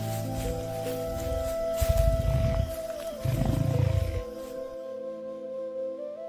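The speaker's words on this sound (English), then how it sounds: "distant roars dissolve into silence" Lion roars in the wild, heard at a distance as deep rumbling bursts in two main groups over a low steady background, with the sound dropping away into near silence at the end.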